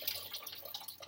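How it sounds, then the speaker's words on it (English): Water drained out of an opened food can into a sink, a steady close trickle and splash with small drips, no voices. "I just drain the water."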